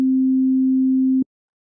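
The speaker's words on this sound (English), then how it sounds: "a sine wave." A pure, steady sine test tone from the Logic EXS24 sampler holds at a single low pitch for just over a second, then cuts off abruptly into silence with a faint click.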